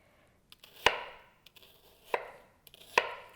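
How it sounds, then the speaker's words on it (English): Knife chopping an onion into pieces on a cutting board: three sharp, close chops spaced about a second apart, with lighter taps and blade contacts between them and no talk. "I'm going to just cut quite a few pieces there."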